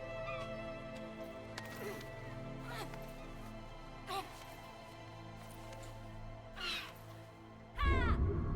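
Harsh, cawing bird calls from a seagull in the video game RiME, a few separate calls over a steady ambient music bed, with one louder burst near the end.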